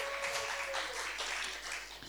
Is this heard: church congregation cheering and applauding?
yes